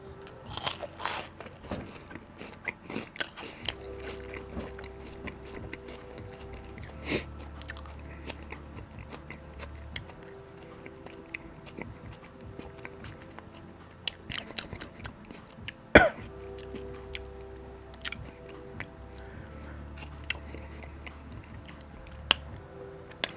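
Close, crunchy chewing of Samyang Flamin Hot Cheeto Puffs, with irregular crisp bites and mouth sounds repeating over about twenty seconds, plus an occasional cough or throat clear.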